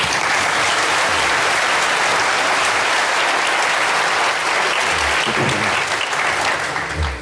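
Sustained, loud applause from a conference audience welcoming a panel on corporate governance and liability, a dense wash of clapping that fills the room for several seconds without letting up.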